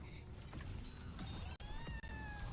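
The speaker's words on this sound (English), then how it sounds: "The cat tries to nap you." A cat in a fast-paced video game meows in a few rising, wavering calls over constant busy game noise and brief sharp clicks.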